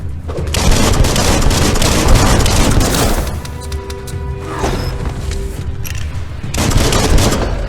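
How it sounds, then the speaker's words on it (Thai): Dense, loud bursts of gunfire hammer at an enemy's large shield in Biomutant, with booming shots layered almost continuously and no talking. "เราต้องยิงชิลทิ้งก่อนครับ"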